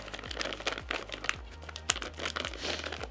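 Gorilla duct tape pulled and pressed onto a tarp outdoors in cold weather, with repeated crinkling, tearing rasps and crackles in uneven bursts, close and moderately loud, with a low steady rumble underneath.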